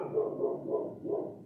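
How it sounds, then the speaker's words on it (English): A dog barking, three or four muffled, evenly spaced barks in quick succession, fairly close and moderately loud with no talk over them. "It's about the dog barking"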